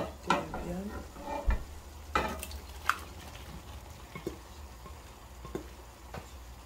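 Beef frying in a pan with okra, mushrooms and plantain nearby crackles with a continuous sizzle, punctuated by scattered scraping clacks of a stirring utensil, moderately close.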